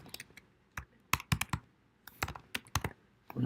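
Keyboard keys clicking in short irregular bursts with brief pauses between them, close and fairly quiet, as a file name is typed in Fusion 360 software.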